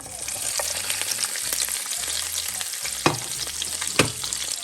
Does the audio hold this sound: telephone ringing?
no